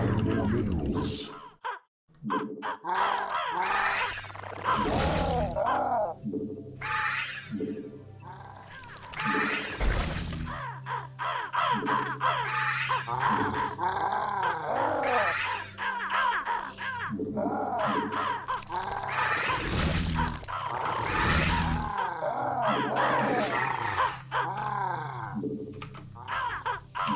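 Crows caw repeatedly in a video game strategy match, harsh overlapping calls in irregular bursts, loud and close, continuing throughout.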